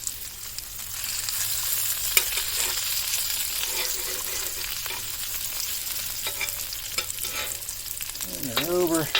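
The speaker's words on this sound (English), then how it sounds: "let's press down this bacon here" Bacon fries in a pan over a hot fire, a steady loud sizzle with occasional scraping as it is pressed down, and a brief wavering tone near the end.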